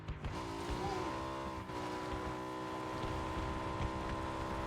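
A motorcycle in the video game PUBG cruises at about 130 km/h, its engine holding a steady, loud drone with a short pitch rise near the start and a brief dip midway.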